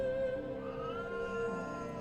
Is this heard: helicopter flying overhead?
no